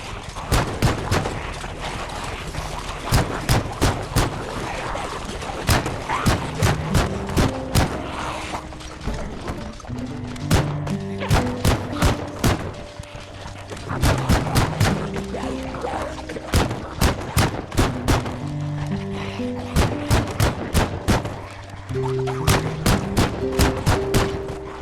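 Rapid shotgun blasts and other gunfire in the zombie survival game Project Zomboid, sharp repeated cracks in irregular bursts over a low droning musical bed, loud and continuous with no talking.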